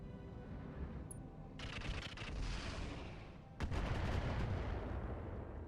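Mech weapons firing in the RogueTech battle game, sustained bursts of rapid gunfire and heavy booming shots that swell louder partway through, close and continuous with no talk.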